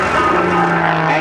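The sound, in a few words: aerobatic airplane tumbling in a shoulder roll at air show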